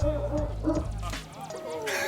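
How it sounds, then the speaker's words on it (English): Hudson, a pet dog, lets out a few quick, close barks and yips, partly overlapping with a person talking. "Hudson, my dog, had to let us know how much he liked it as well."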